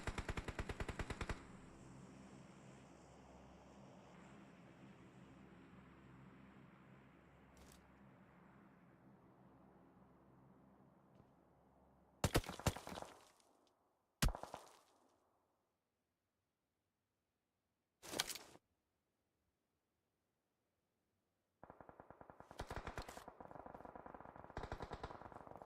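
Video game gunfire in a competitive league match: a sustained burst of automatic fire that trails off, then a few sharp isolated shots separated by silence, and another loud burst of rapid fire at the end.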